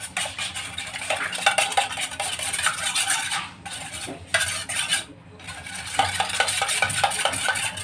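Eggs are beaten with a spoon in a bowl for a steamed sponge cake, making a fast, steady run of clinking scrapes against the bowl. The beating pauses briefly twice, and no one speaks.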